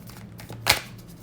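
A single brief riffle of tarot cards being shuffled, a quick soft flutter rising to one sharp snap near the middle, alone and close.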